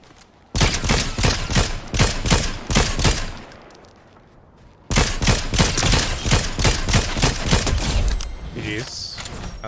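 Rapid gunfire in Fortnite comes in two long bursts of loud, evenly spaced shots with a short lull between them, and mechanical clatter under the second burst.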